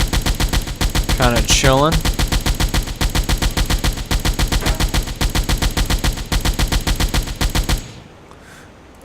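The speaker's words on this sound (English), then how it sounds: "the point of this is to try to take out the gunners on the fore and after the ship." Rapid rhythmic bursts of ship deck guns firing in the submarine video game Silent Hunter 4, loud and continuous for several seconds before cutting off, with a brief spoken remark over the gunfire.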